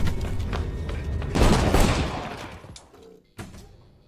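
Gunfire in a film scene where a man is shot in the head: a rattling volley builds to a heavy burst, trails off into quieter noise, then one sharp impact lands near the end, without talk.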